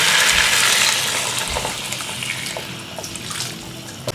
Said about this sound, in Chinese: 加水